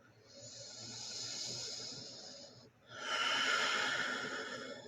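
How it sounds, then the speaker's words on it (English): Slow, deep breathing during a yoga breath cycle, a long airy inhale followed by a fuller, louder hissing exhale, heard close in a quiet space. "Take one more cycle of breath."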